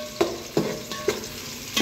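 Onions frying with belly rib in a hot pan, with a steady sizzle and crackle broken by four soft stirring scrapes at even intervals, close up and with no talking.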